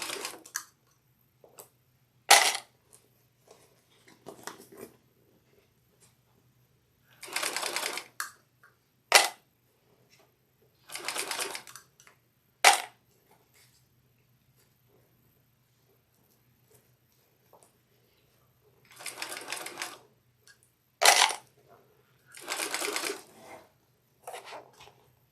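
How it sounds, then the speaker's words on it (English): Sewing machine fitted with a zipper foot stitching a bag, short bursts of fast mechanical whirring broken by sharp clicks and long near-silent pauses, close and clear, with no talking. "I'm going to put the zipper foot. Let's see if we get a better sew around on it."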